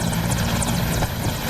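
A UPDF military helicopter flies close by in Uganda, its rotor producing a loud, steady thudding drone throughout the short moment, with no talking.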